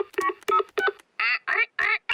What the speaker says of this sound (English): I'll ring Granny Pig